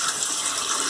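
Water from soaked, swollen sprouting seeds is tipped out of a jar, a steady gushing, splashing pour that runs loud and unbroken throughout, close by, with no voices.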